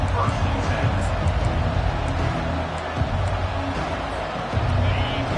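Stadium crowd in a College Football 25 video game, a continuous roaring murmur of fans that holds steady throughout at moderate loudness, with no clear speech.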